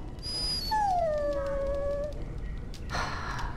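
A video game dog lets out a drawn-out whimper with a falling, plaintive tone, close and clear against a quiet background, followed by a brief soft rustle.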